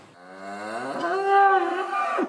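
A cow on a farm gives one long, loud moo that swells and holds steady, with a rich harmonic tone and no other sounds around it.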